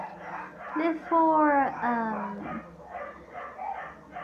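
Household dogs bark and yelp a few times in a short burst at mid distance, one rising whine standing out, with a person talking over and around them.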